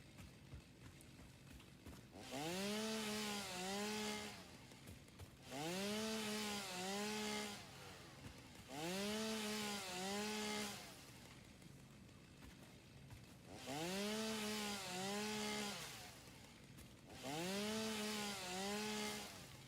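A chainsaw cuts trees in a modded video game, revving in five evenly spaced bursts of about two seconds each, the pitch rising and falling within every burst over a low steady background hum.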